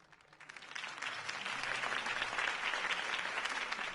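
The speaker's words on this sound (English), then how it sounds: "If only Mr. Wayne, my campaign's largest backer, could have heard that applause" Applause from a crowd after a campaign speech in the film Batman, swelling from a light start into steady, dense clapping that fills the scene with no speech over it.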